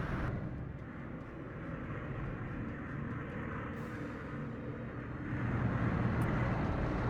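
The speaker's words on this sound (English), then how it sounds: "Let's throw out a recon plane and let's see what's there." A reconnaissance plane in a World War II strategy game drones overhead as a steady engine roar, holding even for a few seconds and then swelling slightly louder near the end.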